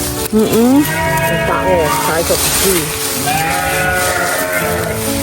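Sheep bleat in wavering cries near and far over constant background hiss and noise, mixed with people talking.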